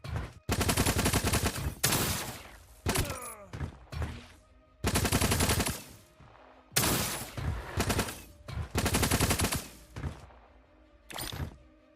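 Automatic turret gunfire in the video game Project Onyx: several loud, close bursts of rapid shots with sharp impacts, separated by short gaps, with no voices over them.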